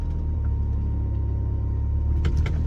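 A car engine idles roughly with a steady low rumble, recorded up close, while the driver tries to shift into gear with a faulty clutch; a brief clunk or mechanical knock sounds near the end.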